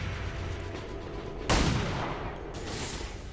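A single sharp gunshot burst from a pistol in the modded strategy game XCOM 2 cracks loudly mid-clip, followed by a softer echoing tail over low background ambience.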